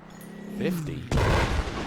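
A sniper rifle shot in the Battlefield V shooter game: one sharp, loud crack with a booming tail that lingers for nearly a second, coming after a brief rising whoosh.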